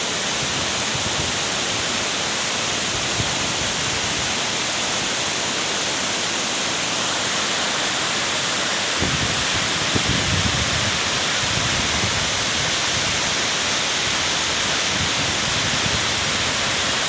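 The SIDI waterfall roars as a dense, loud, unbroken wash of falling water, steady for the whole stretch with a slight low-end thickening partway through and no voices.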